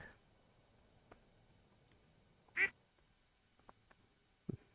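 A single short quack from a duck in the farming game Stardew Valley, faint against quiet game ambience with a few soft ticks and clicks around it.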